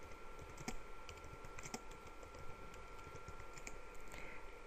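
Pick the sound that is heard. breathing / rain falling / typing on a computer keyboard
typing on a computer keyboard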